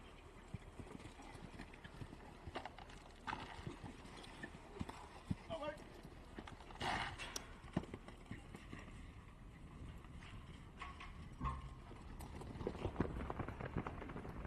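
Horse hooves during a campdraft ride, a steady clip-clop of a horse moving on the course, heard faintly under an announcer's continuous commentary.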